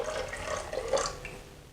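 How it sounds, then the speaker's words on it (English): Half a cup of warm water pours into a batter of eggs, egg whites and milk, a short liquid gurgle and splash close by that fades out toward the end. "followed by 1/2 cup of warm water"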